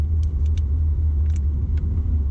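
A car cruises north on the 110 freeway toward Pasadena in Los Angeles, a steady loud low road rumble from inside the cabin with a few faint light clicks and jingles.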